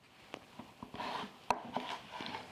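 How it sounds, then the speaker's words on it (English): A knife slicing through a big raw potato on a cutting board, with several short crisp cuts and a louder sharp thunk midway, close and fairly quiet, no talking. "And since this is a big potato, I might actually get a 3rd slice in there."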